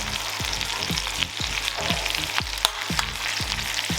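Beef sizzles loudly in a pan with melted butter, garlic and thyme, a steady hot fry with frequent crackles and sharp pops throughout.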